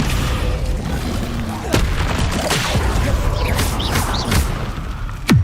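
A Descendo spell cast during combat in Hogwarts Legacy: a dense, loud wash of magical bursts, booming impacts and whooshing sweeps, ending in a sharp close crack.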